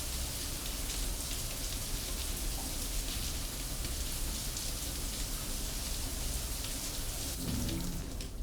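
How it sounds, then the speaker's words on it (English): A shower runs steadily in an apartment bathroom in Cyberpunk 2077, giving a constant hissing spray of falling water, even and unbroken for the whole stretch, at moderate level. "Then you have the shower."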